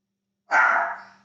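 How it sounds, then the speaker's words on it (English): A single sharp dog bark at close range, one short loud woof that tails off quickly after a moment of silence. "the dogs are barking"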